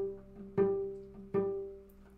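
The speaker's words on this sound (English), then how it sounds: "All the fingers are helping, and your G sounds like this." A single note G plucked or bowed on a string instrument in a beginner lesson, sounded twice as clear separate attacks about three-quarters of a second apart, each ringing and slowly decaying, close and moderately loud with no talking.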